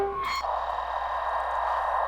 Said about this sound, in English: I'm getting static now, despite the fact that I'm currently facing directly at the satellite dish